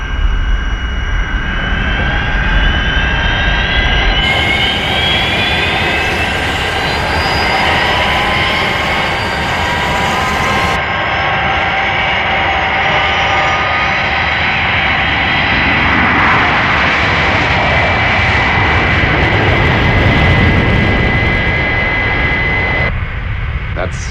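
The Fireflash airliner's jet engines roar for a takeoff, a loud sustained whine and rumble rising and shifting in pitch with radio-style voices talking over it.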